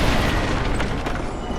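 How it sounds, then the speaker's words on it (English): Black fire bombs exploding in Dark Souls 2, a dense rumbling burst of booms with a few sharper pops layered on top, loud and sustained across the moment. "Black fire bombs, yay."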